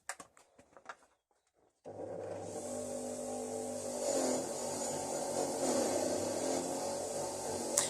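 A wire wheel grinds rust and old paint off a small vise, starting after a few light knocks and running as a loud, continuous whirring abrasion with slight surges.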